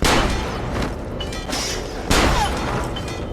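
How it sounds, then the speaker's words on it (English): Ezio's Hidden Gun firing in the video game Assassin's Creed Brotherhood: two heavy, booming gunshot blasts about two seconds apart, each trailing off into a rumbling, crackling echo, loud and close with no voices. "Hidden Gun is originally used by Ezio, so you should recognize that the sound effect was taken from Assassin's Creed Brotherhood."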